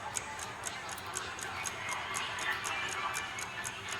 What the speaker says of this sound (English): I can hear a clock on my wall.